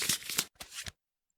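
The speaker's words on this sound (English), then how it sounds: "So shuffle these decks." Decks of cards for a Kingdom Death board game being shuffled up close, two quick riffling bursts of papery fluttering with a brief gap between them, then silence.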